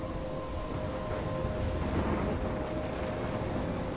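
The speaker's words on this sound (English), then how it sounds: "I'm trapped in a storm?" A thunderstorm in the game Life is Strange brings heavy, steady rain with a deep, continuous rumble of thunder, dense and loud throughout, with no voices.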